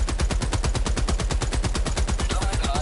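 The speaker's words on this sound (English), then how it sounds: "HMG Emplacement is so good." Heavy machine gun emplacement in Helldivers 2 firing in a sustained rapid burst, loud and close, steady rhythmic bangs with no pauses throughout.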